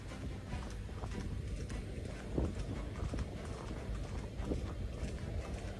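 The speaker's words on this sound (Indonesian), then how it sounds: "Berkudanya bukan di tempat latihan kuda, tetapi di jalanan saudara." Horse hooves clip-clopping on a street rather than a training ground, a steady faint rhythm of hoofbeats under broad outdoor noise with no talking.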